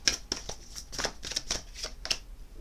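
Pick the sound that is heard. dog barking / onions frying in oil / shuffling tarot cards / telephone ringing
shuffling tarot cards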